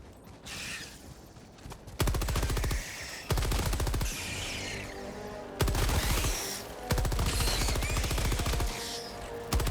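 Rapid bursts of high explosive rounds fired in Helldivers 2, dense rattling volleys in several long stretches separated by brief pauses, loud and continuous with mechanical clatter.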